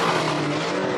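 A Noble M400 track car engine gives a loud, continuous, throaty roar with a steady low drone. It holds its full level for the whole second, with no voices.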